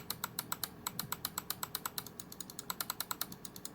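Left button of a Logitech G502 SE mouse after a button replacement, clicked rapidly about thirty times in a steady run of sharp, crisp clicks, close up and alone.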